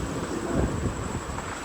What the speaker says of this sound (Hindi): हल्की फुल्की बूंदाबांदी भी हो रही है, और तूफ़ान